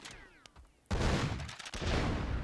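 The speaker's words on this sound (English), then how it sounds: "we see the shotgun battle going down" Shotgun fire in a battle from the game Myth II Soulblighter: a faint scattered shot or two, then a sudden loud, dense volley of overlapping blasts crackling on, with a brief dip before another burst.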